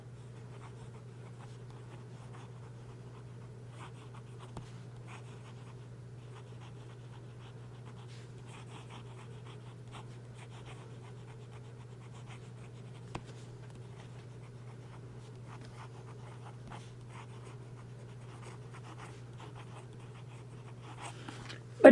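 Huashilai fountain pen with a stiff, hard nib writing on paper, faint scratchy strokes in soft irregular bursts over a steady low background hum, with a few light taps.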